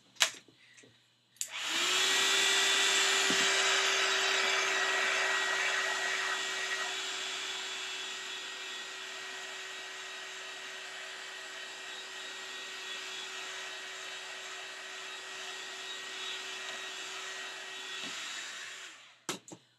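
Hair dryer running steadily on a wet painted sketchbook page, a continuous close whine and airflow roar that starts after a click and holds for about seventeen seconds before shutting off.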